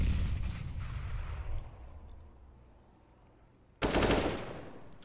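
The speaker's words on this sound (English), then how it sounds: "Little pre-fire there by Vexite as they start to move forward in towards the site now." Gunfire in a Counter-Strike esports match: a decaying rumble of shots and explosions, then after a lull a sudden loud, dense burst of rapid firing near the end.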